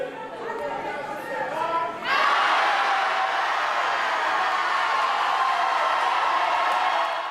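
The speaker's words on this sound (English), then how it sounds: "That is the sound of an auditorium full of Tiffany Henyard opponents rejecting her nomination" A large auditorium crowd at a public meeting chatters and murmurs, then erupts into loud, sustained shouting and jeering that fills the room in protest of a nomination.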